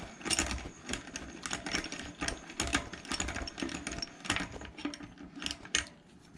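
A peg tool tightens a nut onto a BMX axle inside the peg, making rapid metallic ratcheting clicks close up in an uneven, busy rhythm.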